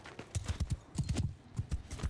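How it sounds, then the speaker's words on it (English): Horse archers' hooves clip-clopping in Mount & Blade II: Bannerlord, a quick, steady run of close, distinct hoof thuds with a brief gap partway through. "Some of the horse archers, I imagine."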